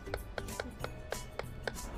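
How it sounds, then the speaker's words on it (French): A knife chops avocado finely on a board in quick, evenly spaced taps, about eight light strikes in a row, close and quiet. "Je vais le hacher, comme ceci."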